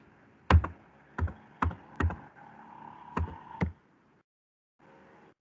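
Six or so sharp keystrokes on a computer keyboard, spaced irregularly with a soft hum between, typing random text during a programming session.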